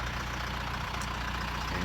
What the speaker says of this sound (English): I went ahead and hooked up to the wagon with the tractor and came out here to the field